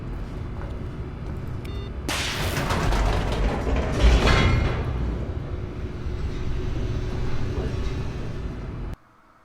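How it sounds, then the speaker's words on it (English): An elevator in The Stanley Parable starts up with a mechanical clunk and creak, then settles into a loud, continuous rumbling hum for several seconds before cutting off abruptly. "Guess I go in the elevator."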